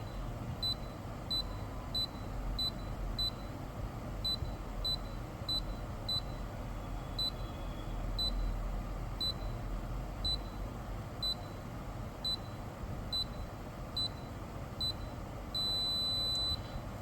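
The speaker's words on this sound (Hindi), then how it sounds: "इस पीसीबी ने यहाँ पर लॉन्ग बीप दिया" A Daikin inverter AC circuit board showing an A1 error code emits a steady train of short, high electronic beeps at regular intervals, ending in one longer sustained beep, all over a constant low hum with no speech.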